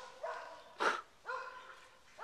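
A dog in a forest setting barks three or four times at a steady pace, with the middle bark sharpest and loudest, at moderate distance and with no talk over it.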